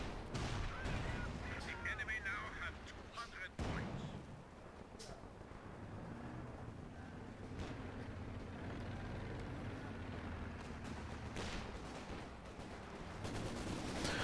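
Machine gun bursts and battle noise from the World War II strategy game Company of Heroes 2, sharp rattling volleys over a rumbling vehicle-like backdrop, with a commentator talking throughout.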